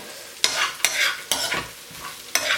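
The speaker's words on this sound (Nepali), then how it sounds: "एकछिन चलाउनुहोस्।" Chicken 65 frying in a pan, stirred in about five scraping strokes over a steady sizzle, close and alone with no talking.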